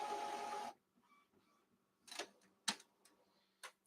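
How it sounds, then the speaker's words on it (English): A home printer runs its self-alignment routine: a short burst of whirring, then a quiet stretch of scattered mechanical clicks and ticks, faint and close, with no talking. "my printer just decided to align itself"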